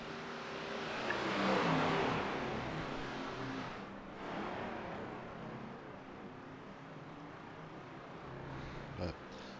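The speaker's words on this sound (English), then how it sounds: "Passing a couple cars here on the grass" Race cars at Indianapolis Motor Speedway in a GT racing video game roar past on the grass, a loud engine drone swelling and fading as cars pass, with a voice talking over it.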